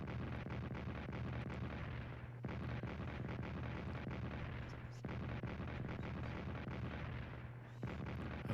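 Artillery fire in the Strategic Command wartime strategy game: sustained, roughly repeating booming blasts in a continuous rumble, with short breaks near every two and a half seconds, moderately loud and free of speech.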